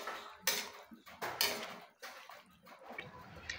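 Chop suey with young corn, cornstarch slurry and oyster sauce stirred in a pan, with repeated scraping and clinking of a utensil against the metal in uneven strokes, fairly quiet and with no talking.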